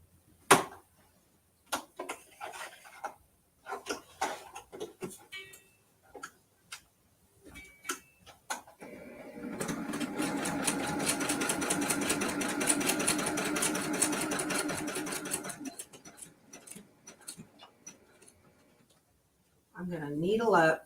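A sewing machine fitted with a stitch-in-the-ditch foot stitches a mini quilt, running in one steady continuous burst of about six seconds, with scattered clicks and handling taps before and after.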